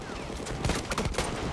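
Distant rattling gunfire in Battlefield 1 on Xbox One, several quick muffled shots over a constant noisy battlefield wash.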